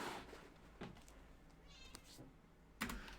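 A cat meows a few times indoors, quiet and somewhat distant, with a sharper sound near the end.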